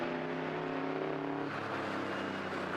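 A Eurocar V8 race car at a circuit passes the microphone with a steady, loud engine roar whose pitch drops as it moves away, heard alone without talk.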